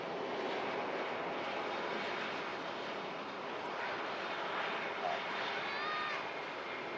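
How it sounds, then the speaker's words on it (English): A SunExpress jet airliner taxis at Manchester Airport, its engines making a steady, broad roar that holds at the same level throughout, heard from a distance with wind noise on the microphone. "Sun Express just continuing its taxi up to stand now."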